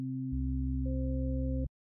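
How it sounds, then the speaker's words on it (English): A single C note played on a synthesizer, a clean sine-like tone held for under two seconds, with an added lower octave and a higher partial layered in before it cuts off abruptly. "If I play a C by itself"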